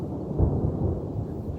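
Thunder from an approaching thunderstorm in the White Mountains of Arizona, a deep low rumble rolling steadily throughout, heavy and continuous at a moderate distance.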